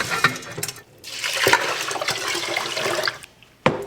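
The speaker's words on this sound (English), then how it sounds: "Rinse it the rest of the way after it's soaked" Running water pours over soaked rice as it is rinsed, a steady gushing wash with splashes that swells and dips, briefly pauses, and ends with a sharp knock.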